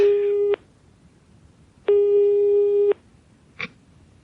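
Telephone tone heard during redialing, two long steady beeps with a gap between them, then a short blip, loud and alone on the line.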